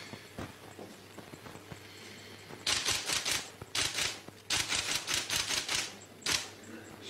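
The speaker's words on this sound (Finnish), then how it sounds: "Se vaan tässä nopeasti kirjoittaessa virhelyöntien määrä kauheasti kasvaa kyllä" Typewriter keys are struck quickly in dense bursts of clacking, near and loud, with pauses between runs and a faint background hum.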